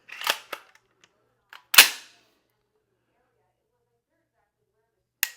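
Dry-fire clicks of a Timney two-stage trigger in a PSA PA15 rifle: a couple of quick snaps, a louder sharp break, a pause, then another crisp click, with brief speech between.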